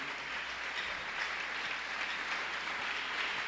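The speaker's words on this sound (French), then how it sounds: "Est-ce que nous pouvons nous lever et acclamer le Seigneur?" Church congregation standing and applauding the Lord, a dense, steady roar of many hands clapping in a large hall, sustained without pause.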